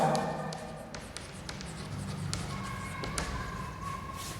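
Scratchy marker or chalk strokes on a board with occasional taps and thuds, steady and moderately close, with faint room noise and no clear speech.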